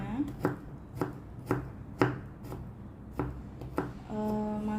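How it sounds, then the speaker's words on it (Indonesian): A knife thinly slicing chili peppers on a cutting board, seven or eight crisp, evenly spaced chops ringing out close and clear, with a faint hum entering at the end. "Ini kita potong, kita iris saja tipis-tipis"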